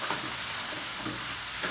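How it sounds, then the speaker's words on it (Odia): Green chili and tomato sauté in a hot pan with a steady, close broadband sizzle and faint stirring scrapes throughout, no voices. "ଏବେ ଆମେ ତାକୁ ଟିକେ ଭଲସେ କଷିବା।"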